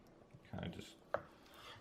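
A knife is pressed down hard through beef being cut into jerky strips, giving two close, short thuds of blade hitting the board amid quiet kitchen ambience.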